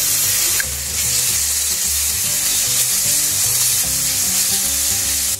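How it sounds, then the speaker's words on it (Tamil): Shredded cabbage with ginger garlic paste fries in a hot pan while being stirred, giving a loud, steady sizzle that fills the whole stretch with no voices. "இப்போ இதில் நம்ம இஞ்சி பூண்டு பேஸ்ட் சேர்த்துக்கலாம்."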